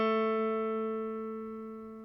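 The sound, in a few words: guitar note, finger on 2nd fret of G string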